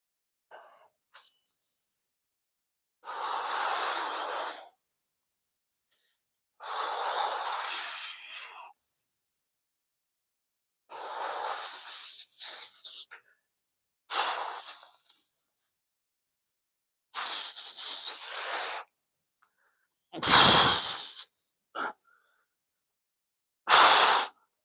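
Heavy breathing after strength training: a series of long, loud exhalations and panting breaths spaced a few seconds apart, near and alone, with silence in between and a sharper gasp toward the end.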